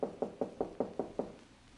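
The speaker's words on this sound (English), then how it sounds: "A knock at the door of my apartment aroused me from a sound sleep." Seven sharp knocks in a steady rhythm rap on an apartment door at night, close and distinct, then the sound falls away into quiet.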